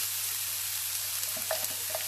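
Onion sizzles in a small pan with a close, steady frying hiss, broken by a few faint clicks and light utensil touches near the end.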